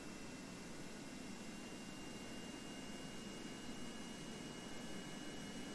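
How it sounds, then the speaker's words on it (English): Aircraft engines rev steadily in the video game Kerbal Space Program, a continuous broadband jet-like roar with a faint whine, unchanging and without speech. "We'll rev up our engines, and we'll see if we can get airborne again without blowing up."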